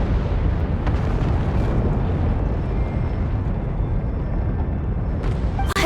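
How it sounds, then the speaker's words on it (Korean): A volcano erupts in the Genshin Impact video game, a continuous loud low rumbling roar that holds steady throughout, with a few brief bursts near the end. "화산 폭발!"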